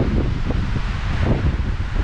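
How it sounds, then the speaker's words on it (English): Steady wind blowing up the canyon walls at Canyonlands National Park, a continuous low rushing buffet against the microphone with no voices. "The wind's blowing pretty good."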